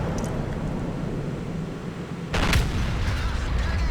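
A tank gun in a World of Tanks battle, the E 100 heavy tank, fires one loud booming shot midway over steady engine rumble.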